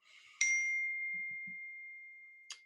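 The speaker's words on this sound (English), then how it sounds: "turn off my notifications real quick" A notification chime rings out clearly, then its bright tone slowly fades, and a second, quieter ding follows about two seconds later in an otherwise quiet room.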